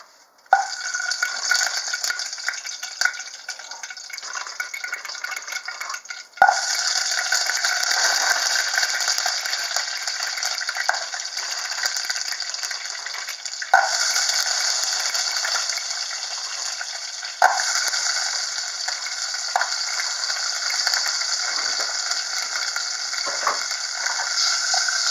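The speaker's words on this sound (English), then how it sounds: "now we're going to put in about 4 meatballs per person, and we might have to adjust the temperature because the oil is going to be very hot" Meatballs frying in very hot oil, a loud, steady sizzle that runs continuously with a few brief sharp crackles and shifts as they are moved.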